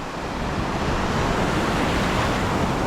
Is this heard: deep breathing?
no